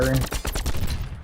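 Gunfire in the video game The Signal From Tolva comes as a rapid, loud burst of repeated shots, close and continuous over a low rumbling background.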